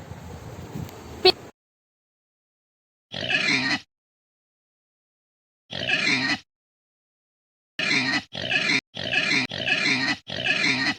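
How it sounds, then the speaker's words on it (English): A domestic pig oinks and grunts in short bursts, one near the start, two spaced apart, then a quick run of five close together, loud and alone. "pig"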